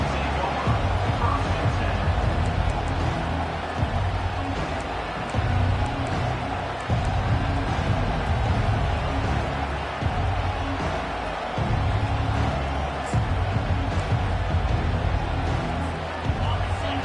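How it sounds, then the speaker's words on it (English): A large stadium crowd at a Texas A&M vs Florida college football game roars continuously. A commentator's voice talks over the dense, steady wall of noise. "This crowd bringing the energy and noise early."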